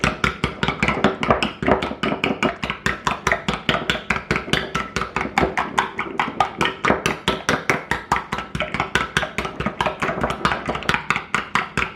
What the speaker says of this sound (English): I'm going to add a tablespoon of milk and just beat that up.